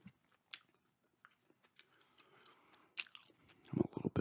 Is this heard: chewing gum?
yes